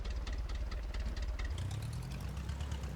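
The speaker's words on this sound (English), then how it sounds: "Well, the engine spins." An engine runs in the Brick Rigs video game, a steady, close, rhythmic chugging drone that shifts to a lower, smoother hum partway through.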